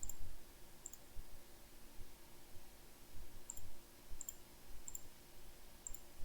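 Mouse clicks while working in SOLIDWORKS CAD software, six short sharp ticks scattered irregularly over steady low background hum, close and fairly faint.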